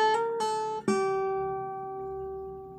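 A guitar note is plucked on the second string at the fifth fret, struck about three times in quick succession, then left ringing clearly and slowly decaying into silence; close and alone, with no voices.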